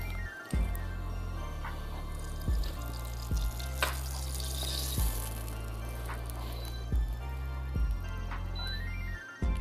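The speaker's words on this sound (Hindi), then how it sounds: "पैन गरम हो गया है, इसमें लेते हैं थोड़ा सा तेल।" Oil going into a hot non-stick frying pan, heard as a continuous soft hiss and sizzle with repeated low thumps and clatters of the pan being handled, fairly close and steady.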